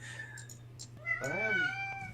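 A pet cat lets out a drawn, wavering meow midway, loud and close, after a few quieter scuffs and clicks indoors.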